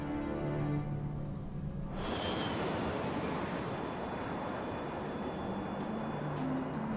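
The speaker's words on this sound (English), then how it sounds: "Qantas 32 lifts off right on schedule." A Qantas Airbus A380 airliner on its takeoff roll and lift-off, heard from inside as a rising broadband engine roar that swells suddenly and then holds loud and steady.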